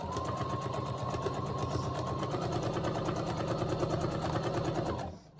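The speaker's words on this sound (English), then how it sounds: "turn my machine on, just a basic straight stitch" A sewing machine running steadily, stitching a basic straight stitch through a decorative throw cushion, a fast even mechanical rattle close up and alone, stopping abruptly at the end.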